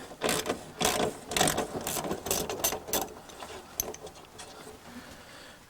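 A wrench ratchets loose a 7/16 ground wire bolt inside an arcade cabinet: a close, quick series of dry mechanical clicks in short bursts, thinning out toward the end, with no talk.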